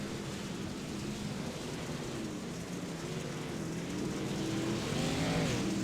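Race trucks roar around the Sonoma rallycross track in the iRacing sim, a steady blended engine drone with tire noise that swells slightly toward the end, no talk over it.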